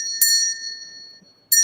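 A collection of small Christmas tree bells rings twice, a bright jingling burst followed by a long ringing decay and then a second shake, alone with no talk.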